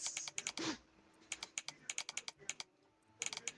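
Scattered keystrokes on a typewriter, with a brief rustle near the start followed by isolated taps and a quick cluster of strikes at the end, close and alone.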